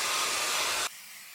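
A hair dryer blows a loud, steady, breathy hiss to dry a layer of mixed media paint, then shuts off abruptly, leaving a faint hum. No one talks.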